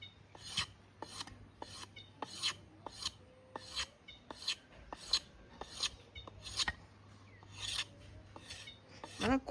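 Bamboo strips scraped with a knife to make tying cord for wrapping sticky rice, a close, steady run of sharp rasping strokes repeating about once a second.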